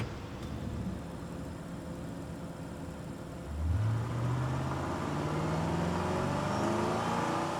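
A hotwired car in Life is Strange 2 starts up and revs, its engine note jumping in loudness partway through and then holding a steady, rising drone.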